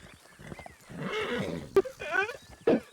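A horse in the Red Dead video game gives a loud, wavering whinny with snorts and brief hoof clip-clops, close by and in the clear.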